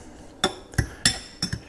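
A utensil clinks and taps against a bowl while mackerel, egg and cheese chaffle batter is stirred, four or five sharp knocks at an uneven pace, close and fairly quiet, with no talking.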